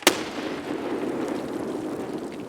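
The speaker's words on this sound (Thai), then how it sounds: "เดี๋ยวทำไมระเบิดมาหล่นหน้าเวีย" A sharp, sudden blast of a grenade going off in Escape From Tarkov, followed by a long rumbling, hissing decay.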